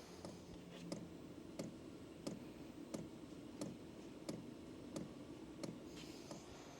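An Hcalory diesel heater's fuel pump primes with sharp, evenly spaced ticks roughly every two-thirds of a second, quiet but distinct over a low background rumble.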